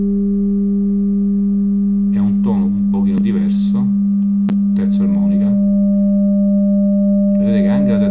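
Steady test tone carrying third harmonic distortion, a constant buzzy hum with added overtone, heard under a voice speaking intermittently.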